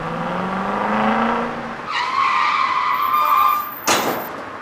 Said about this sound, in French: Le hurlement des camions blindés s'entendait distinctement quand des pneus crissèrent sur l'asphalte de la